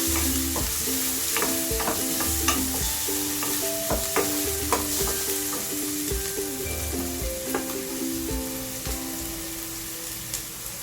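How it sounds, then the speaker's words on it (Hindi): Onions, including the white bulbs of spring onions, sautéing in a pan for a chicken spring roll filling: a close, steady sizzle with repeated scraping stir strokes and light clinks throughout. "इसको अच्छे से सौटे कर लेंगे।"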